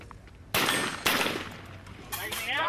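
Rifle shooters fire during a SWAT team competition. Four sharp, loud reports sound at irregular intervals, each leaving a ringing, metallic decay over an outdoor background.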